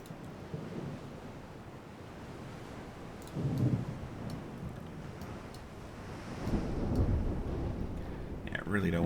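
A naval battle video game thunderstorm brings a steady roar of wind and rain, with deeper rumbles of thunder swelling twice, and a voice talks faintly over it.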